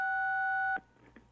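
Telephone line tone on a radio call-in phone line after the caller drops: a steady loud two-pitch electronic tone holds for under a second, then cuts off abruptly, leaving faint line noise.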